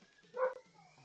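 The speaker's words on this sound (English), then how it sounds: "Sorry for barking in the background." A single dog bark or yip sounds briefly in a room, moderately loud, with quiet background noise around it.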